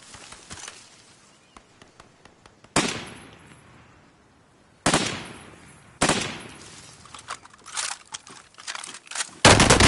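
Video game gunfire: several sharp bursts and single loud shots spaced across the stretch, with quieter crackles between them and no voices.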